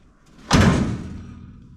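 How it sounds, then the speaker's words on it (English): A car door on an El Camino swings and shuts with one loud, close thud that decays with a short metallic ring, after a brief quiet moment and with no voices. "Door opens and doesn't bind, doesn't hit."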